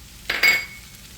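A utensil clinks and scrapes twice against a pan while corn is stirred with minced garlic, salt and pepper, short, close, bright metallic contacts over a quiet background.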